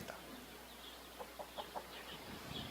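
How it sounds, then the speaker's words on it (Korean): A chicken clucks faintly in a few short, quick bursts against a steady background hiss, sounding distant and muffled, as if played back from a recording. "개를 쩔쩔매게 만드는 닭입니다"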